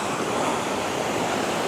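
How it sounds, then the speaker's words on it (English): A river rushing beside the Mount Toubkal trekking trail, heard as a steady, loud broadband roar of flowing water with no other sounds. "The river is very beautiful here"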